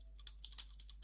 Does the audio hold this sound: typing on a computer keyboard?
yes